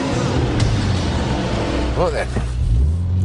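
A Litchfield Type 25 Subaru Impreza accelerating hard, its engine roar loud and steady under a brief spoken remark inside the car.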